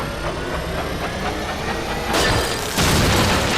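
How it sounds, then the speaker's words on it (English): A large vent fan in the video game Resident Evil 2 Remake drones steadily as it spins, then surges louder in two abrupt steps as it races toward exploding. "she uses it on a large vent fan and causes it to rapidly spin until it explodes"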